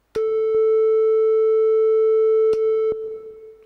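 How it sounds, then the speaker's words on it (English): Steady pure test tone on the note A from a Behringer Model D analog synthesizer, sustained alone for several seconds with faint reverb and delay tails, with brief clicks where it starts and is retriggered. "the first thing to do is just put this test tone on"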